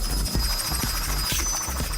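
A helicopter drones steadily with a low rotor throb and faint periodic thumps, loud and unbroken throughout, no voices over it.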